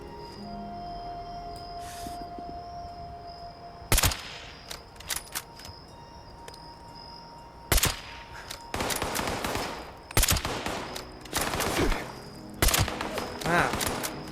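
Sniper rifle shots ring out in the video game Fallout 76, about half a dozen loud, sharp cracks spaced several seconds apart, some trailing into brief rattling echoes over a low ambient hum.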